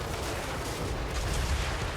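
Massed cannon and gun fire in a Total War: Warhammer 3 battle forms a dense, continuous roar of overlapping booms with no distinct gaps, loud and steady throughout.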